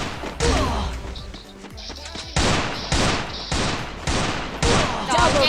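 Rapid UMP submachine gun bursts in the Garena Free Fire battle royale game, loud repeated volleys with thuds and impacts, under a player's excited talking.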